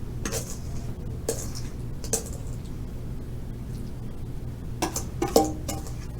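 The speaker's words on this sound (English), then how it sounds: "we will fill the crust with our apple mixture" Apple pie filling being spooned into a pre-made 10-inch pie crust, heard as a few separate clinks and soft scrapes of a utensil against the dish, spaced out over a quiet room hum.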